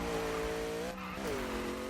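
A drift car in the Need for Speed racing game sliding sideways, engine droning with a tonal tire squeal that dips briefly, then picks up again.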